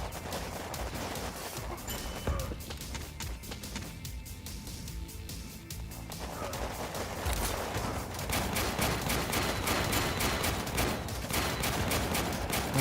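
Sustained turret gunfire in the video game Warpips: dense, rapid bursts of shots, loud and continuous, with a brief thinner lull partway through before the firing builds again, heard without talk.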